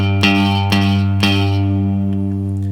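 An open low E string on a guitar rings steadily and sustains, with three soft percussive strums or taps on top, then the tone slowly decays.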